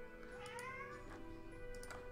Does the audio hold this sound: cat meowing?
yes